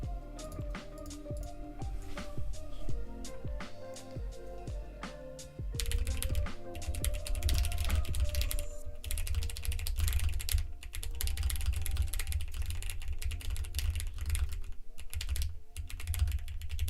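Fast, continuous clicking of keys on a custom-built keyboard during a typing race, steady and close, with music playing underneath and no talking.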